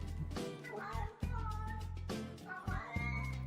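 A human voice imitates a cat's meow with a few drawn-out, nasal, wavering meows in quick succession, loud and close to the microphone.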